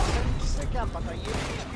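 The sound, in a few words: gunshot in the video game Red Dead Redemption 2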